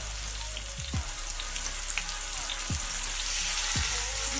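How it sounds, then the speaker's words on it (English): Beef patties frying in olive oil in a cast iron skillet, a steady broadband sizzle with a few soft clinks and taps underneath, close and continuous with no talking. "What we have is olive oil, and we're going to go ahead and place our steaks or our patties in."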